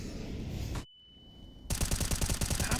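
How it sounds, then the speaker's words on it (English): Counter-Strike gunfire from wall bang shots, a loud burst of shots, a near-silent gap, then a rapid, evenly spaced automatic volley. "Lining up some wall bangs, very close,"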